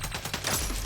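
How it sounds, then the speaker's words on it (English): Rapid gunfire from a shotgun in the video game CyberCorp, several quick booming blasts close together, loud and heard without talk. "Okay, it's a shotgun."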